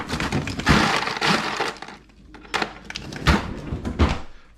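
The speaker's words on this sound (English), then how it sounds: "We're going to take some ice cubes" Ice cubes are tossed onto a bowl of cold somen noodles: loud clattering, cracking clinks in two bursts with a short quiet gap between them, close and sharp.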